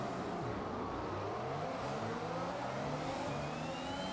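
A Formula 1 car's engine revving hard at a race start in F1 2021, a steady, loud high-pitched whine that climbs through the gears with no talk.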